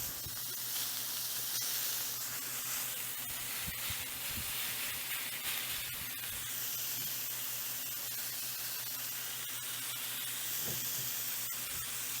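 80/20 ground beef sizzles steadily in a pot, a continuous loud hiss and crackle with faint pops that runs unbroken the whole time, no voices over it.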